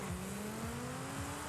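A Ford Mustang SVO launches hard in Forza Horizon 5, its engine note sweeping up through repeated gear shifts over a steady rumble, quiet and close, with no voices.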